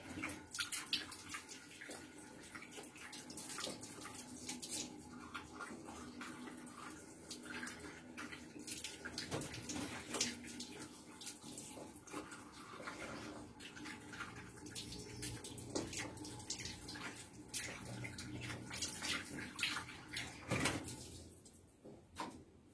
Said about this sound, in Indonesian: Kita ganti cuci wadah minumnya